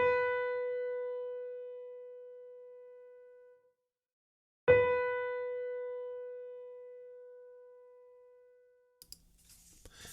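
Musical note B on the treble clef staff, played twice as a clear sustained tone that decays slowly, with a pause between the strikes and faint clicking near the end.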